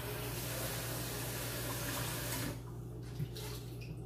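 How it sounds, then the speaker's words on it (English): Tap water runs steadily into an empty lemon juice bottle in a kitchen sink during a rinse, a loud close rush that cuts off abruptly, leaving a few faint drips and clinks. "That bottle is officially done, so I'm gonna rinse that out"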